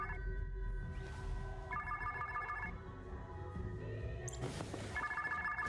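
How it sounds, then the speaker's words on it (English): A phone rings for an incoming call in an animated show, repeated electronic trilling bursts at a steady rhythm over soft background music, fairly quiet. "She's getting a phone call now."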